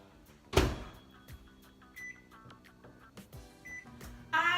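Microwave oven heating butter for an apple crisp topping, with a door clunk and hum, faint rattles, and a bright series of electronic beeps at the end, close and moderate in loudness.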